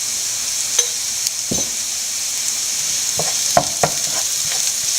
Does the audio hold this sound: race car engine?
no